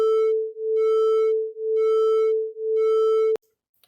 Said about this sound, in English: because there's 1 Hz difference between them, we should hear 1 Hz beat